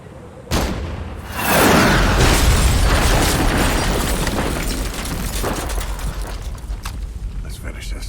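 A rocket launcher explosion in Metal Gear Solid V hits as one sudden loud blast, then swells into a long rumbling boom that slowly fades, with commentary voices over the top.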